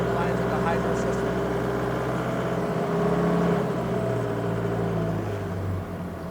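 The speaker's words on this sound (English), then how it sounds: "giving it more gas is going to make it actually go a lot faster, build those pressure lines in the hydro system" An Octane FD25BCS 5,500 lb diesel forklift engine runs at raised revs while building hydraulic pressure to lift the mast, a steady droning rumble with someone talking over it throughout.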